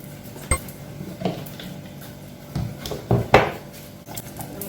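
Blended plantain porridge mixture poured into a cooking pot for Jamaican plantain porridge, with a few scattered clinks and knocks of the pot and utensils, moderately close, no talking.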